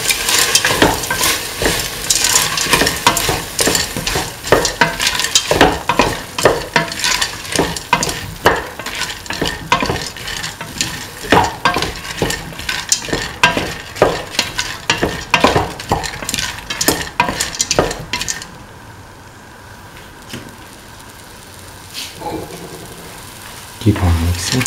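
Peas, cauliflower and carrot stirred and frying in a pan, a steady sizzle broken by repeated scraping strokes of the spoon, close and loud, before the stirring stops near the end and a quieter simmer remains.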